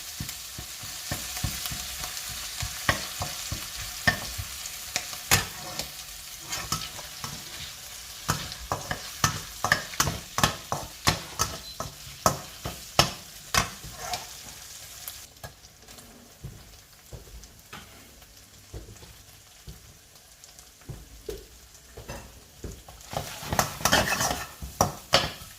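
Oil sizzling and frying steadily in a pan, with frequent sharp clinks and scrapes of a utensil stirring against the metal, fairly close and without any talk.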